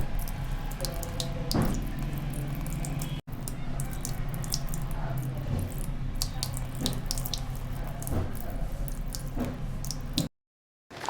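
Water splashing and trickling as a toy doll is bathed in a village play setting, a steady wet pouring and sloshing sound with a few brighter splashes, close and continuous.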